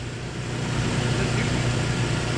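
A Toyota 4x4 engine idles steadily as four-wheel drive is engaged, a low, even rumble with a faint hum that holds at constant loudness without revving, and no talk over it.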